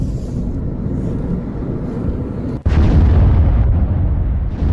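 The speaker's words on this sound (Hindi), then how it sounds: "धमाके की आवाज आप सुन सकते हैं" Explosions from missile and drone strikes on Iran boom loud and dense: a continuous low rumble gives way to a sudden heavier blast that keeps roaring, with no talk.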